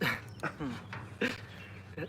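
JoJo, a 14-year-old pet dog, lets out several short whimpers and yips in quick bursts, close and fairly quiet over a faint background hum.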